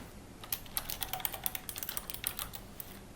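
Rapid, close clatter of a computer keyboard as a kit name is typed, with irregular bursts of keystrokes running throughout and no voices.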